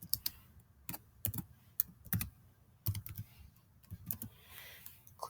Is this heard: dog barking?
no